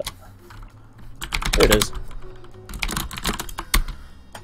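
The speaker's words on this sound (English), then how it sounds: "Furious typing on the keyboard." Rapid, bursty clatter of keys on a computer keyboard, loud and close, in uneven flurries with short pauses, as someone briefly speaks over it.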